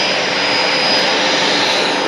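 Outbound American Airlines jet airliner, its engines giving a steady, loud broadband roar that holds evenly throughout with no talk over it.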